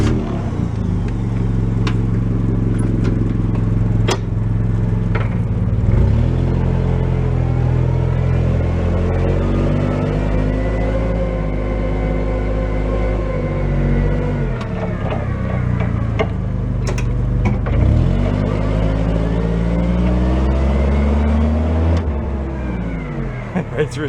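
A 1992 Yale forklift with 3,000 lb capacity and triple mast runs steadily throughout, its engine giving a loud continuous rumble that rises and falls in pitch as it revs during a ride, with a voice talking over it.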